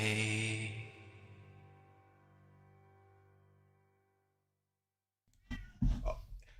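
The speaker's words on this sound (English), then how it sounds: "immediately a cat starts meowing" A cat meows loudly and close, one long drawn-out call that fades slowly, then after a short silence a burst of sharper, rougher meows.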